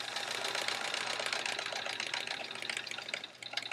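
A sewing machine stitches and back-tacks a seam in quilt paper piecing, a fast, continuous mechanical whirring and clatter heard up close, steady throughout with a brief slowdown near the end.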